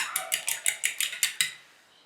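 A whisk beats two eggs with milk in a bowl, a quick run of about eight rhythmic metallic clinks against the bowl, close and clear, then trailing off.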